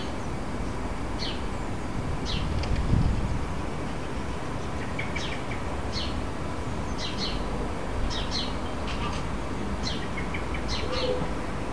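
A female blackbird named Elsa gives repeated sharp alarm calls in a garden to warn of a threat. Short bursts come every second or so, at moderate distance over a steady outdoor background hiss.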